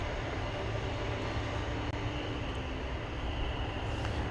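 American Airlines flight 765 bound for Louisville at DFW Airport, heard as a steady, distant jet engine rumble and whoosh that holds evenly throughout, with no talk over it.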